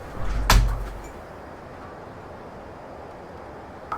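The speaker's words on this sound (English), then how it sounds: "Let me shut my door." A door is shut once indoors with a single muffled, fairly close thump near the start, followed by a quiet room hush.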